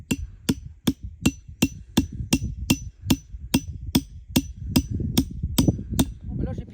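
Hammer driving a long 8- to 10-inch nail with its head cut off to hold a salt block for a winter deer lick: about sixteen sharp, evenly spaced metallic blows, close and loud, with low background rumble.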